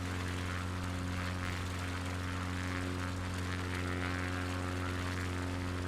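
A small propeller plane drones steadily while taking off from an island resort runway, its engine hum low and continuous at a distance, with no talking.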